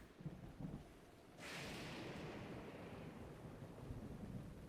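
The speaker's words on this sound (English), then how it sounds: "Just thundering." A thunderstorm in Zelda: Breath of the Wild brings a sudden low roll of thunder that swells and then sustains as a steady broadband rumble over rain-like noise, with no talking.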